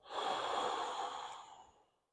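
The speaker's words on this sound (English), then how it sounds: "Exhale." A single long, soft exhale during a thoracic extension stretch for spine rehabilitation, a breathy whoosh that fades away over about two seconds.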